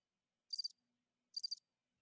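A cricket-chirp sound effect is played from a soundboard, giving two short, crisp bursts of high trilling chirps about a second apart against near silence.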